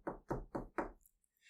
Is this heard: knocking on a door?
yes